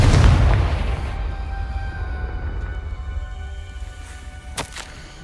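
A Confringo fire spell explodes in Hogwarts Legacy gameplay: one loud, close boom with a deep rumble that slowly fades, followed by a faint later crack.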